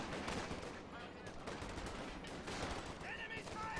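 Rapid gunfire from triple-star veteran snipers in a Company of Heroes 2 esports match, crackling steadily amid dense battle noise with other weapons and explosions layered throughout.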